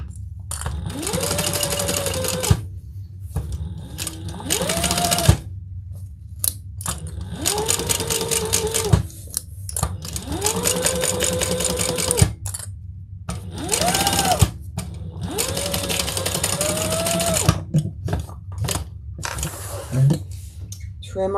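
A sewing machine stitches binding onto a beach tote in loud, repeated bursts of rapid whirring separated by short pauses.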